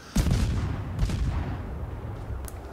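Heavy naval gunfire from a warship in World of Warships, a loud booming salvo followed by a second blast about a second later and a sharp report near the end, with low rumble trailing between shots.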